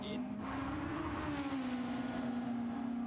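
GT3 race cars entering the pits in a racing video game on the Dragon Trail Seaside circuit, a steady engine drone with a slowly shifting pitch, with a commentator's voice talking over it.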